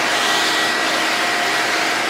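A vacuum cleaner is cleaning a car's air filter, its steady, loud whooshing roar filling the moment up close without any pause or voices.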